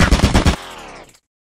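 A turret lets off a short, loud, rapid burst of about five gunshots, then a ringing tail that fades to silence within about a second.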